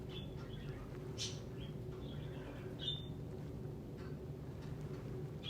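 Birds chirp and squabble faintly in the distance, with scattered short high calls over a steady low background hum.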